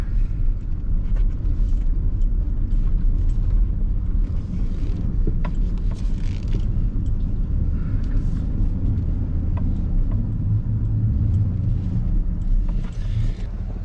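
A vehicle drives steadily at a farm on its way to hook up a snowplow, giving a loud, continuous engine rumble that holds constant throughout.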